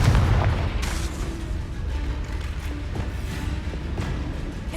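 Blasting Confringo spell in the Hogwarts Legacy video game, a loud booming explosion that bursts at the start and then rumbles and crackles steadily for several seconds.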